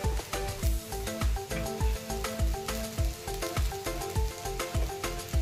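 Sago pearls sizzle in a pan for sabudana khichdi, a steady frying hiss running beneath rhythmic background music with a regular beat.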